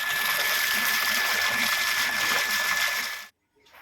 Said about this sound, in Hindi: अभी तो खाना बनाने के लिए हम यहाँ पे पानी ताज़ा भर लेते हैं मोटर से